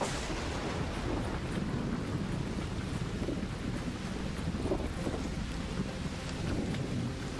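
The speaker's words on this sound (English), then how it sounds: "an electromagnetic storm is currently raging over topside. Beware the lightning strikes if you're outdoors" Rumbling thunder and steady wind of an electromagnetic storm in a video game, a dense continuous roar that holds loud throughout with no voices over it.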